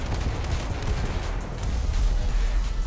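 Naval gunfire from a gunboat in the War Thunder video game, a sustained rapid volley of cannon and machine-gun shots blending into a continuous rumbling barrage with dense, repeated sharp reports.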